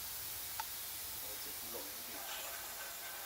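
A pressure cooker on the stove vents a faint, steady hiss of steam while assam pedas cooks, with a few small clicks and rattles over the even rush.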